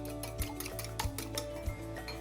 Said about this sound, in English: we're gonna lightly beat that egg